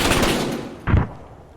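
Gunfire in the military shooter game Arma 3: a burst of rapid shots fading out, then a single distant boom about a second later, loud at first and trailing off.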